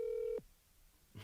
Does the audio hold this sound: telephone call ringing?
yes